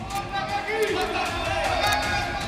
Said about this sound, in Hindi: और साथ में जोरदार नारेबाजी